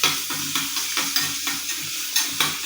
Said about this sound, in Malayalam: അത് ചൂടാവുമ്പോൾ അതിലേക്ക് ഒരു 4 ചെറിയുള്ളി അരിഞ്ഞ് വെച്ചതും കൂടെ ചേർക്കും.